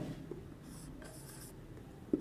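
Urdu letters are handwritten with a pen on paper, producing quiet, intermittent scratchy strokes in short bursts close to the listener, with a small tap near the end.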